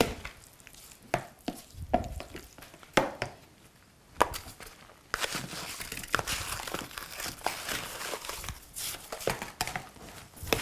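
Noodles being mixed into slushy shaved ice for Iranian faloodeh, a run of wet crunching, scraping and crinkling stirs with irregular rhythm, close and fairly quiet.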